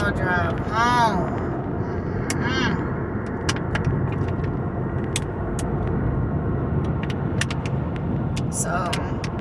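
A car drives along the road with a steady engine and tyre rumble from inside the cabin, while a person talks throughout over the noise.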